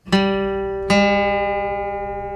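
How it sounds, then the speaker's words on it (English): A guitar note plucked at the 5th fret of the 4th string, struck twice in quick succession, each ringing clear and sustained with a slow natural decay, alone and close. "now I'll play the 5th fret of the 4th string and match the open 3rd string to that note"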